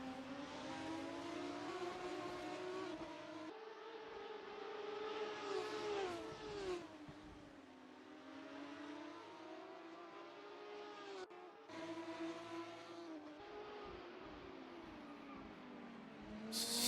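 Sim race cars at Bahrain in a SimGP league race, engines howling loudly with rising and falling pitch through gear changes, with a brief tire squeal as one car locks up under braking, close and continuous.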